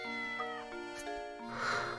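A cartoon cat in the Professor Layton and the Curious Village video game lets out a couple of clear meows over a steady backdrop of game music.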